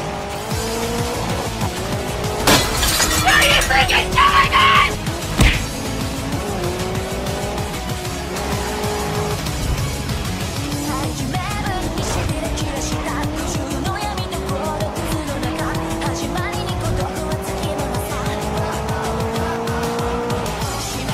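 Race cars in GRID Legends roar steadily, their engines rising and falling in pitch through gear changes. Tires squeal and skid near the start, followed by a sharp impact. The sound stays loud and continuous throughout.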